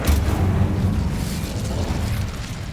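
A fiery spell blast in the Hogwarts Legacy video game erupts as a loud, deep boom that rolls on as a sustained rumbling roar without fading much.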